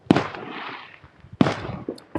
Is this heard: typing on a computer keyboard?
no